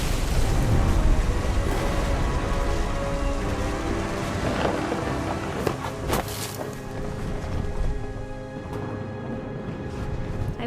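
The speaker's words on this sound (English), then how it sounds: "Thunder sounded much too close and full of angry power" Steady heavy rain and rumbling thunder in a game storm set on a seaside estate in What Remains of Edith Finch, with sharp cracks of thunder around the middle over the constant roaring downpour.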